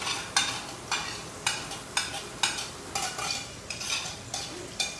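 Onions stirred across a bacon-greased griddle, a spatula scraping in regular strokes about every half second over a soft steady sizzle, close and with no talking.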